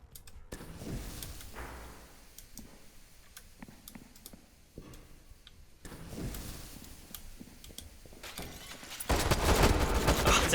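Gunfire in the video game Astroneer, bursts of sharp rapid shots scattered across the clip, rising to a dense loud volley at the end.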